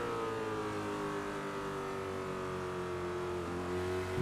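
A GT2 Ford race car engine holds a loud, steady high-pitched drone in a racing video game at the Red Bull Ring, with a brief dip in pitch near the end.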